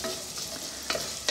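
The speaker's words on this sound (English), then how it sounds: "So while we've got our onions and garlic and thyme frying away there" Onions, garlic and fresh thyme fry in a pan with a close, steady sizzle, broken by a couple of sharp scrapes as they are stirred.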